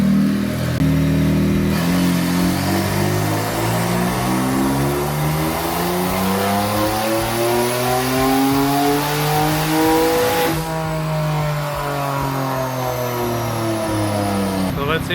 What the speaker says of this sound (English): Got the Stinger on the dyno.